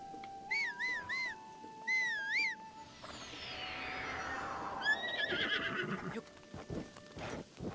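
A horse in the video game The Legend of Zelda: Breath of the Wild gives several clear whinnies, and a whooshing sweep follows with soft clip-clop hoof sounds, all fairly close and with no talk over them.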